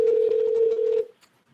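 A telephone call being placed, with a steady electronic tone that holds for about a second and then cuts off, leaving near silence with a faint click.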